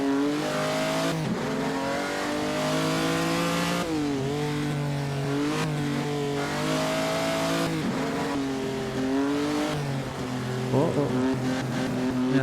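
Vintage race car engine in Assetto Corsa, a 1948 Gran Premio di Napoli post-war racing simulation, droning steadily at high revs with rising and falling pitch as it shifts and accelerates, loud and continuous throughout with a brief tire squeal near the end.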